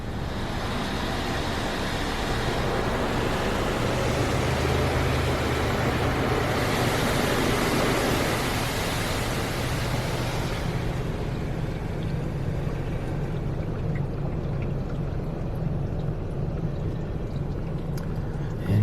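A 3B NeXus Crossfire automatic car wash sprays a vehicle in Ardmore, Oklahoma, making a steady loud hiss of water jets with a low mechanical hum underneath, easing slightly toward the end.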